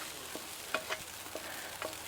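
Rice frying on a 20-inch Blackstone camp griddle outdoors, a soft steady sizzle with a few light scraping stirs, fairly quiet and without talking.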